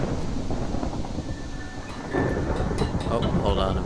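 Thunder rolls in a modded Minecraft world, a sustained low rumble with a louder swell partway through, while a voice talks over it.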